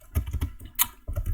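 Fingers tap out Python code on a computer keyboard in an uneven run of close, crisp keystrokes, with a brief pause partway through and no talking.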